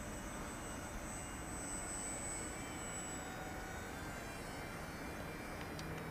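A Z51 Predator beginner RC airplane flies overhead, its electric motor a faint, steady high whine over broad outdoor wind noise, with no voices.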